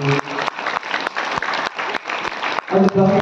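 A church congregation at a Good Friday Way of the Cross service in Tharuvaikulam claps in loud, close, continuous applause, swelling near the end, with a voice speaking over it.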